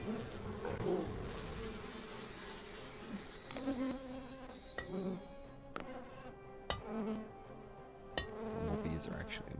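Buzzing bees in the video game Popup Dungeon drone in uneven swells under game music, with several sharp clicks and effect hits scattered through the stretch.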